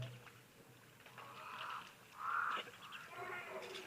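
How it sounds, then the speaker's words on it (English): Birds call at a waterhole in Etosha park, a few faint caws and chirps rising out of a quiet outdoor backdrop, the loudest call near the middle. "couple of birds, as well as the blackbird"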